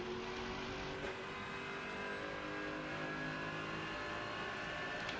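Race car engines in the video game Rennsport drone and rev continuously, a close, steady whine with shifting pitch as cars run together on track.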